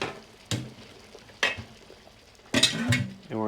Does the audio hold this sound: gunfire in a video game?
no